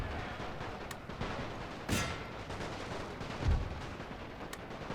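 Machine gun fire from a World War I video game battle, with a busy, dense stream of distant gunfire and artillery-like thumps rolling under a continuous combat din, with sharper bursts near the two- and three-and-a-half-second marks.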